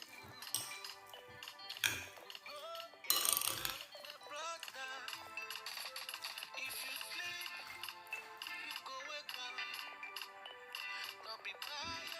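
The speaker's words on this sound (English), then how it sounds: "So I will continue mixing it until everything is" Spoon scraping and clinking against a bowl while avocado and egg salad is stirred together, a steady run of close taps and clatters with a few louder knocks.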